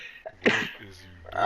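A single sharp sneeze bursts out in the middle of casual conversation, with speech just before and after it.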